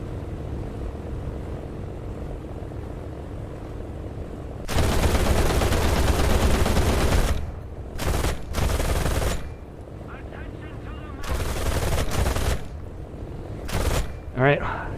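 Aircraft machine guns fire in long, loud bursts during a flight combat video game dogfight, stopping and starting several times over a propeller engine drone, with someone talking between bursts.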